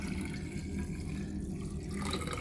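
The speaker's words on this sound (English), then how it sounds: "I'll show you that by pouring it in this large graduated cylinder" Sodium hydroxide solution poured into a large graduated cylinder, a steady continuous liquid pour with a splashy trickling wash running throughout, fairly close and unbroken.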